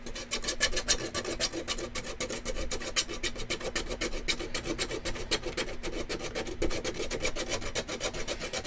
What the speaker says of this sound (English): I'm using a file to scrape it away, so I'm not wasting time with sandpaper